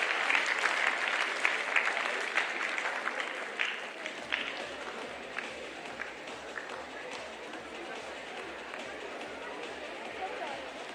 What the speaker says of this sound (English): join me in congratulating the editorial team and all the contributors with a big round of applause